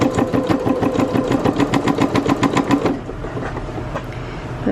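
A sewing machine stitches dress lining in rapid, even pulses for about three seconds, then slows into a softer, quieter whir; no one speaks.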